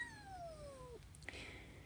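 A tortoiseshell stray cat gives one long, falling meow up close, followed by a brief chirp over a quiet background.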